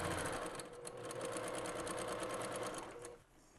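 Sewing machine stitching a fabric scrub cap, a close rapid running whir with a rhythmic needle patter, slowing and quieting near the end as the stitching stops.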